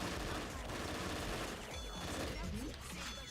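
Rapid gunfire from a shooter game, Nikke, rattling in dense continuous bursts across the whole stretch, loud and busy with layered game effects and no voice over it.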